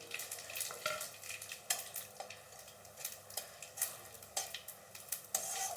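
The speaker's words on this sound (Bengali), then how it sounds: "তেলটা গরম হয়ে গেছে, দিয়ে দিচ্ছি 2টো তেজপাতা, 2-3টে শুকনো লঙ্কা, দারচিনি, হ্যাঁ, এলাচ, লবঙ্গ, গোলমরিচ।" Whole spices, bay leaves, dried red chillies, cinnamon, cardamom, cloves, black pepper and cumin sizzle in hot oil as a soft steady fry. Scattered light clinks and stirring scrapes sit on top, close by and with no voices.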